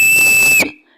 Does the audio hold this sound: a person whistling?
yes